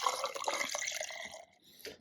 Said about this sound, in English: The real way I love this is to have a nice cup of ice and to pour it over that.